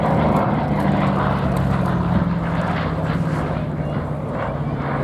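A Romanian-built two-seat trainer aircraft flies at the Abingdon air show, a loud, steady propeller-engine drone with a low tonal hum, with faint speech underneath.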